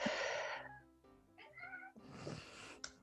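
A pet cat meows insistently for food after vomiting its breakfast, several close, drawn-out meows in a row with short pauses between them, alone without talk.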